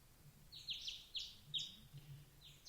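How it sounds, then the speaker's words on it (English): Birds chirp outside on a morning, with four or five short, high, quiet bursts of chirping spread evenly over a faint low hum. "I opened my eyes at the sunlight and the chirping of birds outside."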